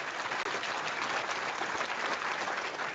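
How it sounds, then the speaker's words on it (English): A canned applause sound effect plays on a tech news show: dense, steady clapping from a crowd, loud and continuous for three seconds, with no talk over it. "Can you put the applause on?"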